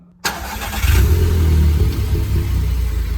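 A VW Golf 6 engine cranks and fires after a brief silence, then revs up loudly and settles into a steady, close running rumble with no talking.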